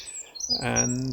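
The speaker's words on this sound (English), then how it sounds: "there's a lovely bird singing" A bird sings in a back garden: a short bright chirp, then a clear whistled phrase, close and moderately loud, with a single spoken word at the start.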